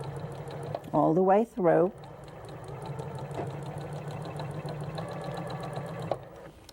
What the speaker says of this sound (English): I just start to sew my 1/4 inch seam